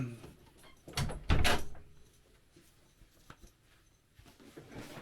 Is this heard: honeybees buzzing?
no